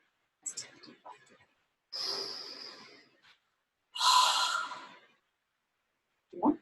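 A group breathes in deeply together in a children's circle time: a short sniffing inhale, then two long, airy breaths a couple of seconds apart, the second fuller and louder, followed by a brief voiced exhale.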